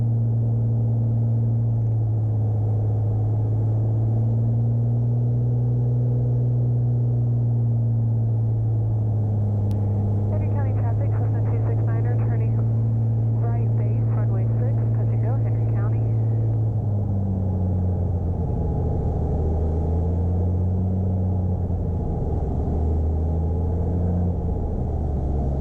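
Beechcraft Bonanza piston aircraft on landing approach to Peach State Aerodrome, a steady loud cabin drone of engine and propeller with shifting pitch as power changes, a voice talking over it midway.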